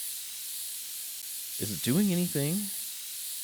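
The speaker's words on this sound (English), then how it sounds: "Let's start with some compressed air" A steady hiss of compressed air fills the background throughout, cleaning a PC in the video game PC Building Simulator, while a voice speaks a short question over it.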